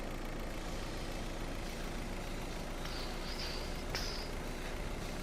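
Engine of a 4x4 truck being driven in the video game Schedule 1, a steady loud rumbling drone with a few brief higher squeals near the end.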